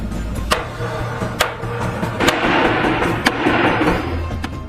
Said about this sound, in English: if you bang a hammer on the iron base of the staircase, the sound is really epic